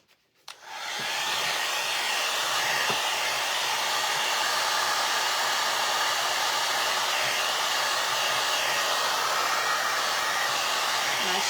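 A hair dryer blowing on a decoupaged wooden bread box, switching on after a brief click and then running as a loud, steady whoosh without pause.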